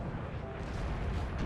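Deep, rumbling booms of Napoleonic-era artillery in a battle in the game Napoleon Total War, a dense, continuous low roar with no distinct separate blasts.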